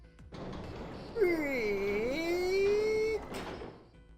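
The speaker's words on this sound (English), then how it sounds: "and the gate creaked open" A heavy gate creaks open as two people push it in the video game 999, a long, drawn-out groaning creak with a wavering pitch lasting a couple of seconds, loud and close, with a scraping onset and fading tail.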